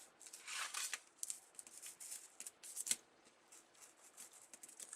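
A craft blade slices through paper on a cutting board, giving a series of close, dry scratchy strokes in uneven bursts, with no talking.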